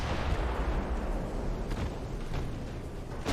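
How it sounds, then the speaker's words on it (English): Heavy battleship-grade naval guns pound a small cruiser in a naval combat game, a dense, continuous roar of explosions and booming fire with a few sharper blasts standing out. "This battleship grade weaponry is just tearing the little cruiser apart."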